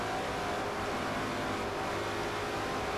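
Racing car in Forza Motorsport 4 at Suzuka with traction control on, powering out of a slow corner: a dense, loud, continuous engine roar building as it accelerates, with no voices.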